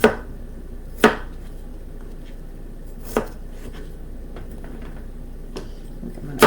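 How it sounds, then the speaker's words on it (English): A kitchen knife cuts radishes and other vegetables on a cutting board with sharp, isolated knocks spaced a second or more apart, close and fairly loud against a quiet kitchen background. "I'm going to cut a couple of these radishes in half"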